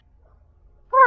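A cat gives a single loud, close meow after near silence, rising and tonal at the very end.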